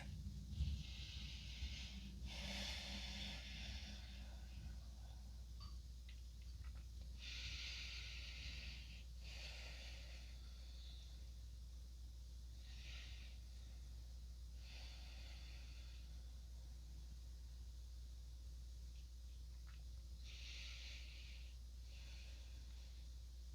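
Soft, slow breathing during a calm yoga session for the hips, with long airy inhales and exhales recurring every few seconds, faint and close over a low steady hum.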